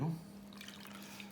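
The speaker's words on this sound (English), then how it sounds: "So we just pour all the milk in the middle," Milk pours into a well in the centre of flour and breadcrumbs for butterscotch scroll dough, a soft steady liquid trickle that starts with a brief thud and runs on quietly with no voices.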